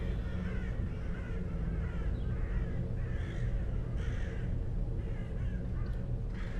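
A flock of crows in a dark video game caws repeatedly, a string of harsh overlapping calls spread over a dense, loud rumbling game ambience, with no talking.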